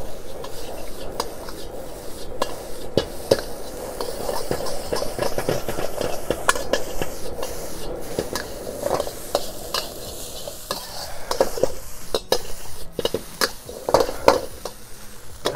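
Thai fried rice being stir-fried with crab, fish sauce, soy sauce, sugar and white pepper in a pan, giving a steady close sizzle broken by repeated scraping and tossing strokes of a utensil.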